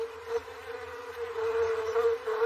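Honey bees buzz steadily at an opened garden hive, a continuous droning hum that stays close and fairly loud throughout, with no talking.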